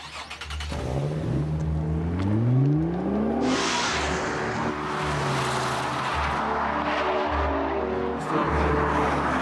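Race car engine revving hard with rising and falling gear-change sweeps, loud and close, then a sustained roar at high revs, with brief tire squeal at a driving academy.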